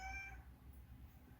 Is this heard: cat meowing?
yes